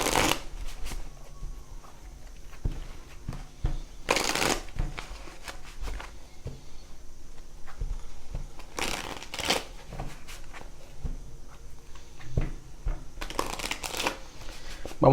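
Tarot cards being shuffled by hand in bursts of riffling and sliding, with louder flurries around the middle and end, close and clear against a quiet room with no talking.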